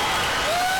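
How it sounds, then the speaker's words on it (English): A basketball crowd at a 2009 Cascade Conference tournament championship game gives a standing ovation, with dense, loud, continuous applause and cheering filling the gym. "And the crowd is a standing ovation."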